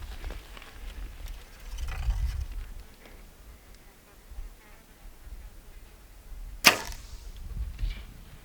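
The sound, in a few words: archery arrow shot hitting rocks during mule deer hunt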